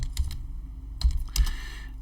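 A computer keyboard typed on in a few quick clusters of close, soft key clicks, with short pauses between bursts.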